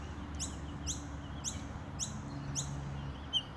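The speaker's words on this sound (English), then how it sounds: "There's like a little butcher bird there." A butcher bird calls outdoors in a repeated pattern of five or six bright, sharp chirps evenly spaced about half a second apart over a steady low background rumble.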